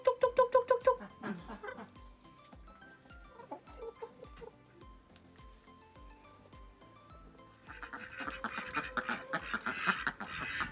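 Backyard ducks quack near at hand, with a quick rhythmic burst at first, then scattered calls mixed with clucking fowl, rising into a busier chorus toward the end.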